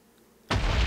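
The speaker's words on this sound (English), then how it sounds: "Really big, shiny explosions." Loud Minecraft explosion bursting in suddenly after a quiet moment, a single heavy boom that fills the rest of the short clip.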